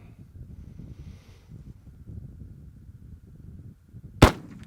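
A black powder pistol fires one sharp, loud, close blast near the end, after a stretch of low wind rumble outdoors.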